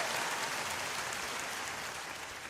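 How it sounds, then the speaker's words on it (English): A studio audience claps on a talk radio broadcast, producing an even, sustained wash of applause that fades slightly toward the end. "Can I have some applause for that?"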